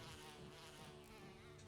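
A dense, constant buzzing of a swarm of bees fills the scene in a Resident Evil game, loud and close with no pauses and no talk.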